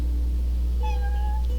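A cat in the video game Final Fantasy XV gives one short meow, clear but not loud, over a steady low hum of game background sound, with no talking.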